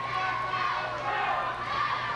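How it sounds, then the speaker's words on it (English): A wrestling arena crowd of fans roars and cheers steadily for the wrestler Chaz Taylor, a dense continuous wash of voices with no breaks. "You can hear the fans of Chaz in the background."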